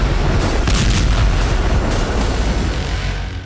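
A missile strike exploding a tent in war footage: a loud, heavy blast with booming low rumble and crackling bursts that slowly fade, dense and close, with no voices.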